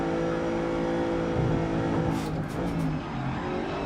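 Race car engines drone loudly and continuously in GRID Legends, with a harmonic whine that rises and dips as the car chases a slipstream, plus a few brief sharp clicks near the end.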